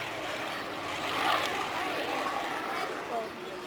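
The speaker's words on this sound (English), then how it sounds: "This aircraft, with its Merlin engine," Spitfire with a Merlin engine at a historical festival flying display, a broad, steady airborne engine roar at moderate distance, swelling slightly as it passes, with no clear speech.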